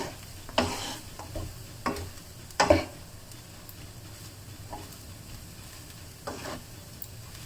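Bean sprouts are tossed through laksa fried rice in a hot pan, giving a steady low sizzle broken by several sharp scraping and clattering bursts of stirring.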